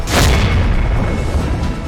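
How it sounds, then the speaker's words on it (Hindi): Firecrackers set off outside a party office during a flag-hoisting on a political party's foundation day, a heavy booming burst up front followed by a rumbling, crackling tail that slowly fades. "छोड़े गए पटाखे।"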